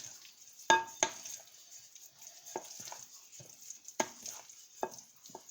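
Thick oily batter for beer bread focaccia stirred in a bowl, giving sparse, irregular soft scrapes and clacks of the utensil, close and fairly quiet, with no talking.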